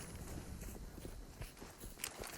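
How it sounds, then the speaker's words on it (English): Footsteps of a player falling back on the Overpass map in CS:GO, a string of faint, quick steps over a steady background hiss with no talk. "You can hear him falling back there. Last footsteps being made."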